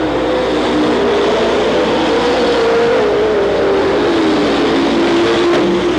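Race cars on a short track in Watsonville, California run together in a loud, dense engine roar that slowly wavers in pitch, continuous and close with no talk.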